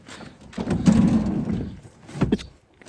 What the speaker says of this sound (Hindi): डिग्गी बंद करो आराम से